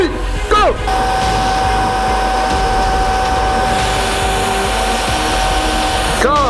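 A shop air compressor runs steadily and loud throughout during chef's knife making, a constant mechanical drone with a sustained whine, briefly punctuated by short sweeping sounds at the start and end.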